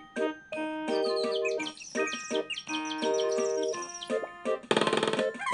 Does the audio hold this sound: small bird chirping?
yes